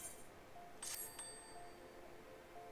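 A summoning bell in Final Fantasy XIV chimes once with a bright metallic ring and a short shimmering tail, over a quiet game background.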